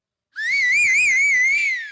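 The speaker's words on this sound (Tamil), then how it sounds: "எல்லாம் ஜோரா ஒரு தடவை விசில் அடிங்க நம்ம ரமேஷுக்கு" A single sustained whistle from a singing competition audience cheering a contestant, one bright warbling tone held for about a second and a half, loud and close with no talk.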